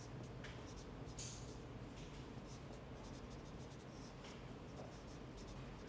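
Pen or marker scratches across a surface as a matrix definition is written by hand during a mathematics lecture, steady short strokes heard close up under a faint background hiss.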